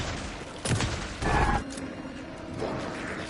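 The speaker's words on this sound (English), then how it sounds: "And we'll just shotgun him." Shotgun blasts in the horror video game Alan Wake 2, two heavy booming shots about half a second apart followed by softer mechanical rattling, with no talking over them.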